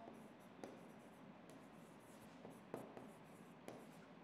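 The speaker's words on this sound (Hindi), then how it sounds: "मैं लिख देता हूं" Notes being written down during a maths lesson on triangle properties, with faint scratchy pen or marker strokes in irregular short bursts and brief taps, quiet and close with no clear talking.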